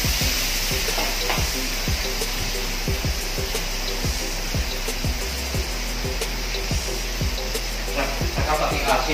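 Tomatoes sizzle in a pan while being stir-fried with squid, a big batch cooked at once: a steady loud frying hiss with a regular rhythm of scraping stirring strokes throughout, no talk.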